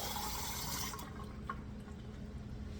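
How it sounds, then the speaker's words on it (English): Half a cup of water poured into a pressure cooker while making lamb meatballs, a steady close splashing stream that cuts off after about a second, leaving quiet room noise and a faint clink. "Now they want us to add half a cup of water."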